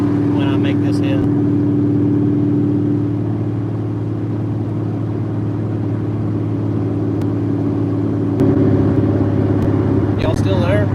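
A Ford Coyote V8 in a swapped Cobra car holds a loud, steady rumble that swells when the throttle opens toward the end, heard from inside the car with a voice speaking over it.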